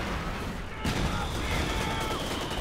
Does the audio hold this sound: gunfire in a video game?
yes